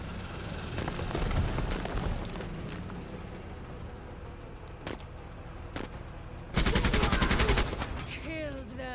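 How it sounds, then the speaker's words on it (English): Machine gun fire in the tactical game Menace, heard as scattered shots and impacts under a busy battle mix, then a loud sustained burst of rapid automatic fire near the end, with brief voices around it. "How many rounds do we have left in that machine gun?"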